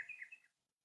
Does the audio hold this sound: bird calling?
yes